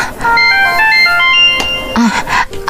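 A mobile phone text alert plays a short melodic ringtone, a bright run of tones, near and fairly loud, with a brief voice-like sound near the end.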